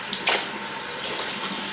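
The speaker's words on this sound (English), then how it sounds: "Turn on some warm water." Warm water running steadily from a tap into a sink, a continuous hissing splash with a brief louder gush near the start.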